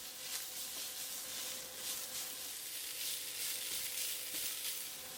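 Korean wakame stems stir-fried with crushed garlic and salt give a steady close sizzle with faint scraping as they are mixed in the pan, with no talk.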